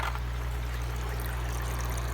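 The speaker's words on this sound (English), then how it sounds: "That water is flowing quite well through there on all of these." Water streams steadily through hydroponic grow tubes, each fed by its own supply line, making a constant, even rushing trickle with a low pump hum underneath and no pauses.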